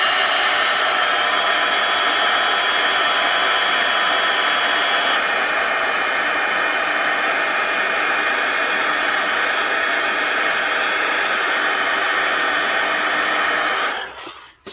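A blow dryer runs steadily and loud on coffee-stained journal paper, a constant whooshing roar held for the whole stretch before it shuts off abruptly at the very end.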